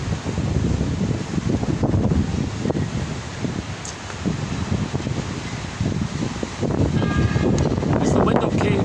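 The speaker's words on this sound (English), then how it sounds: "you're hearing the wind here" Outdoor wind buffets the microphone in a steady loud rumble with gusting surges, rustling texture and occasional faint distant sounds, continuous throughout with no clear talk.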